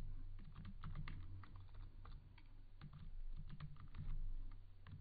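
Rapid, irregular keystrokes on a computer keyboard while code is typed in a Kotlin programming lesson, close and steady, with no talking over them.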